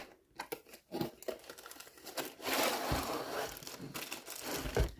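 Packaging around a paper punch for making gliders being opened, with crinkling, tearing and rustling of paper or plastic, close up, in irregular bursts that grow denser toward the end.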